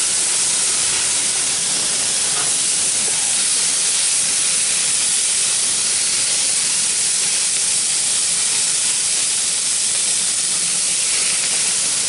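Burgers sizzle on a propane grill with a steady, loud, unbroken hiss that holds evenly from start to finish, no voices over it.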